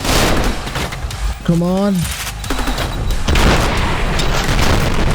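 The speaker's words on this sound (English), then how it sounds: "You keep shooting grenades at me." Gunfire and grenade blasts from the shooter game Trepang2 crash as a steady dense barrage throughout, with a short spoken line from a voice in the middle.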